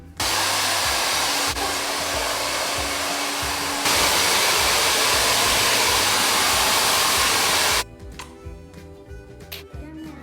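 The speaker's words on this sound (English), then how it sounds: "I'm gonna dry it out to dry him, and I'm not gonna put the heat too high" Hair dryer blowing steadily and loudly while drying a puppy after a bath, its pitch shifting once or twice before it cuts off abruptly near the end, leaving faint rustling and handling noise.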